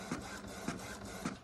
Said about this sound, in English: it is printing each one in a mirrored direction